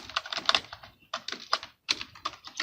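Rapid clicking of keys on a computer keyboard while typing into an Excel sheet, in quick bursts broken by two short pauses, close and crisp.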